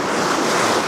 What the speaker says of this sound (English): Stuck out here on a rock in the middle of these crashing waves.